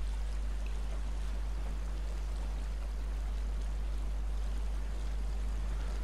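Water from a small river crossing in the SnowRunner video game flows as a faint, steady rushing wash over a low constant hum, with no voices.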